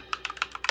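Someone types on a customizable mechanical Neo keyboard, producing about eight crisp, clacky keystrokes in a quick, slightly uneven rhythm, close and clear with no talking.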